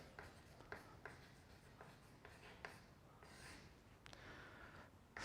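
Chalk taps and scrapes across a classroom board as an example is written out for a Class 11 physics lesson, in short, quiet strokes with pauses between them and no speech.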